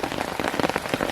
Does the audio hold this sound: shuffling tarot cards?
no